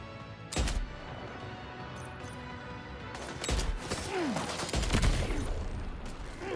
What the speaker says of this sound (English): Now we gotta deal with this guy that's taking pot shots at me.